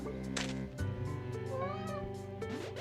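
Several cats meow in the video game A Space for the Unbound, overlapping rising and falling cries repeating close and clear over a steady tonal game music bed.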